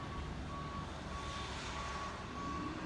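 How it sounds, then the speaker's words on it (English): A large truck outside with reversing beeps, a steady high-pitched beep repeating about twice per second over a low muffled engine rumble, heard faintly from indoors. "there's a giant truck right outside"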